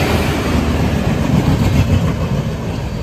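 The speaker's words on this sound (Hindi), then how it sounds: "अभी क्रॉसिंग हो रही है अपनी पेडने में with my favourite train Matsyagandha superfast" Matsyagandha Superfast train passing a crossing at Pernem on the Konkan Railway, a steady loud rumble of rolling stock with faint rail clatter, continuous and close throughout.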